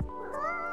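A cat in the cosy visual novel game Coffee Talk lets out a single short, clear meow, rising slightly in pitch, close and alone.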